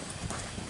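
Rusty, a Morgan horse, stepping up around penned mini Zebu cattle, his hooves giving a quick, close run of clip-clops over a dense, noisy background with no talking.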